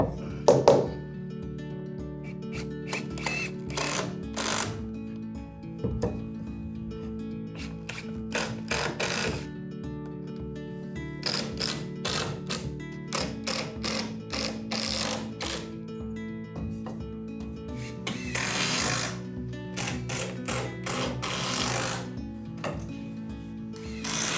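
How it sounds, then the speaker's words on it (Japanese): Long screws are driven through the side walls of a straight staircase into the wooden treads, three per tread, giving repeated short mechanical bursts and thunks over a steady tonal background, close and fairly loud. "両側の壁からも長めのビスで段板に直接3本ずつビスを揉みます"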